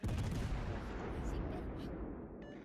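Heavy warship artillery fire in a naval battle video game, a dense continuous roar of booming salvos that fades slightly toward the end, loud and close with no clear talk over it.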